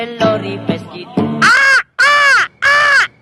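A voice imitates a sea gull with three loud, drawn-out squawking cries in quick succession, preceded by a few sung or spoken syllables.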